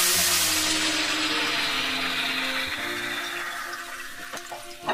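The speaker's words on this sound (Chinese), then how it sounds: "我们就倒入开水" Boiling water poured into a hot pan holding a pan-fried, golden fish head over high heat, giving a loud rushing hiss and sizzle that slowly fades over several seconds, with no talking.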